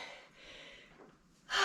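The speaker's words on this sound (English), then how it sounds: "Are you breathing as heavy as me?" Heavy breathing after a dumbbell strength workout: faint, drawn-out breaths that end in one louder, sharp gasp.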